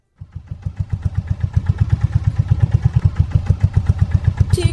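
A cartoon boat engine sputters to life and settles into a loud, steady, rapid chugging putter, running close and alone throughout.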